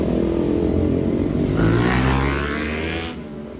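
A CFMoto 450NK motorcycle fitted with an SC Project slip-on exhaust revs up hard from a steady rumbling idle, its raspy note climbing sharply, then dropping back. The engine is loud and close, with no voices.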